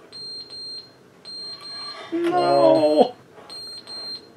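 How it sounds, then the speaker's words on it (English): Fire alarm going off in The Stanley Parable, a repeating electronic beep in short evenly spaced bursts, interrupted midway by a loud harsh tone while a voice speaks over it. "Oh no, the fire alarm's going off."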